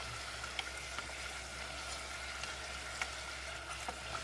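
Beef empanadas frying in fresh oil, a steady soft sizzle and bubbling with a few faint pops, close but quiet, under a low hum with no talk.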